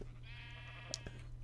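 A sheep bleats in Minecraft, a single drawn-out wavering cry heard quietly over a steady low hum, with no talking.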